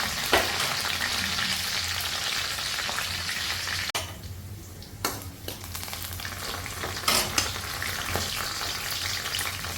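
Onions for an Assamese-style pumpkin curry sizzle loudly in hot oil in a pan, a dense continuous crackle broken by a few sharp stirring scrapes and clinks, close and without speech.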